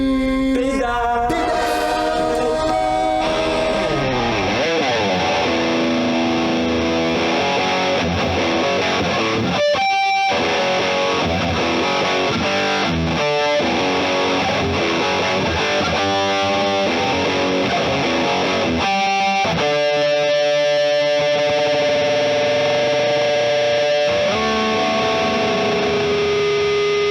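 An electric guitar played through stacked overdrive pedals modeled on classic amplifiers, giving a driven, saturated tone. Sustained chords and riffs ring out loud and steady for the whole stretch, with brief pauses between phrases and no talking.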